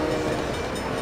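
A train pulls into a station in the SimCity 3000 city-building game, a brief, loud, dense rumble of rolling cars filling the short moment without any voices.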